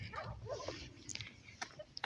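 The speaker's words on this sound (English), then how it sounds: "except for the dogs in the background making this town quiet" Dogs barking off in the background of a quiet small town in West Kelowna, British Columbia, a few faint scattered barks and yips over a low street ambience.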